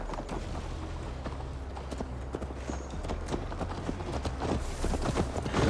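Horse hooves clip-clopping at a steady riding pace in the Viking game Assassin's Creed Valhalla, close and rhythmic over a low rumbling ambience, with no talk.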